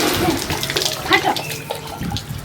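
Water splashes and pours over a person bathing in a Hindi comedy skit, a steady near splashing wash with brief voices mixed in.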